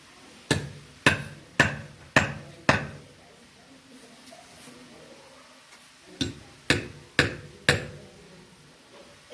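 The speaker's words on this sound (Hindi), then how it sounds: "कील को दोनों साइड ठोकेंगे" Nails being hammered into a wooden plank: a run of five sharp, evenly spaced knocks, a pause, then four more, fairly close and moderately loud with no voices.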